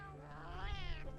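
A Palico cat companion in Monster Hunter Wilds gives one drawn-out, wavering meow, close and fairly loud over a steady low game hum.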